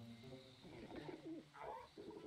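Kulu Yaku, a bird monster in Monster Hunter World, gives soft low cooing calls with a few brighter warbling chirps, faint and set against steady background game ambience.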